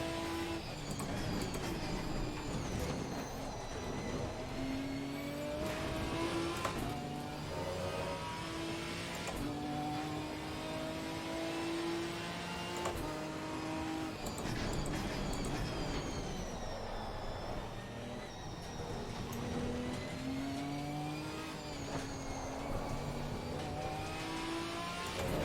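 GT race car engine in Assetto Corsa Competizione, steadily revving up and down through gear changes, loud and continuous with no other sounds on top.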